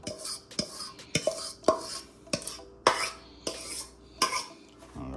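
Chocolate banana bread batter being stirred with banana mixture, a spoon scraping and clinking against the bowl in repeated uneven strokes, close and fairly loud.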